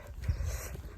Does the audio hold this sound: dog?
yes